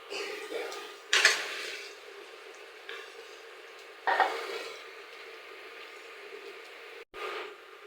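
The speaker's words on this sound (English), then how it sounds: "add the wet pohe, a little salt and sugar and stirs well" A spoon stirs wet poha with salt and sugar in a pan, giving a soft, quiet scraping and sizzle with a few louder scrapes spaced a few seconds apart.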